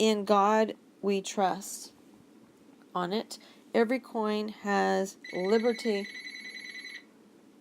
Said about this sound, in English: Sorry about that. That was my phone.